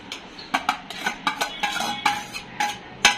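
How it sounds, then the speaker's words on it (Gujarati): Onions being tipped into a pan of carrots, capsicum and cabbage, followed by repeated sharp clinks and scrapes of a metal spoon against the pan at an irregular rhythm, with no talking. "હવે કાંદા નાખીશું."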